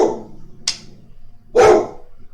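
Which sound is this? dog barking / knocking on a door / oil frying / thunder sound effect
dog barking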